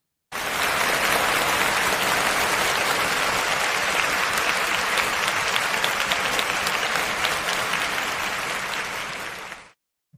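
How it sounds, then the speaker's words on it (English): A large audience at a live talk event breaks into sustained, loud applause, a dense unbroken roar of clapping that holds for about nine seconds before tapering off and stopping. "let's give her a round of applause because that is a lot to go through."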